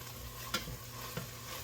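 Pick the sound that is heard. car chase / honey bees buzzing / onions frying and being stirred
onions frying and being stirred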